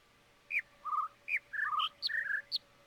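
Bird chirps from the puzzle game The Witness, a run of around eight crisp tweets at shifting high and low pitches, close and distinct against near silence with a faint steady hum.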